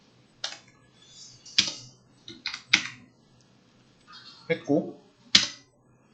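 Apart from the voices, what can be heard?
computer keyboard typing and pressing Enter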